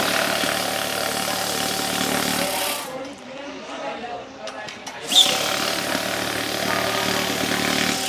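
A money counting machine running through a bundle of banknotes, a loud continuous whirring rush that briefly drops out midway before starting again, close up.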